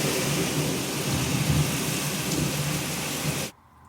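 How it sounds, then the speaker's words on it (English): A heavy thunderstorm pours steady, dense rain with low rumbling thunder, loud and continuous for several seconds before cutting off abruptly to near silence. "I didn't think we were getting like a storm like this"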